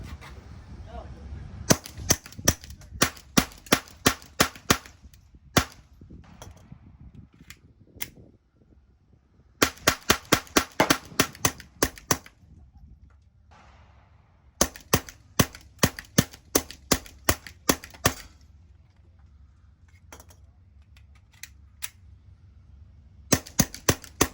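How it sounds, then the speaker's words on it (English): A suppressed Glock G44 .22LR pistol with a short barrel fires subsonic rounds in quick bursts of sharp, dry cracks, several strings of rapid shots separated by brief pauses. "Firing this in a G44 with suppressed, this ammunition in this particular pistol with a short barrel is subsonic."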